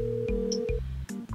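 A telephone call being placed, with a series of electronic tones and beeps in quick, uneven succession like dialing and a synthetic ring, clear and close with no voices.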